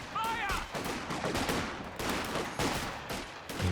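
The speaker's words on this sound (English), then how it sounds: "Machine gun doing some good work for Osttruppen" Heavy battlefield gunfire in the strategy game Company of Heroes 2 during a 2v2 match, with repeated machine gun bursts and overlapping shots filling the whole stretch at a steady, dense level.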